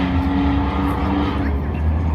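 Race cars run on the M-40 Speedway oval, with steady loud engine roar, a droning tone and broadband rumble throughout, and a voice faintly under the noise.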